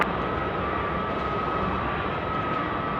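An airliner on takeoff from Sydney Airport runway 16 right at night, a steady broad engine roar with a faint whine, held at even loudness throughout without voices.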